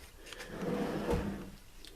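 A drawer in a converted school bus slides along metal slides with a smooth rolling rumble, ending in a soft thud as it closes, close up and alone.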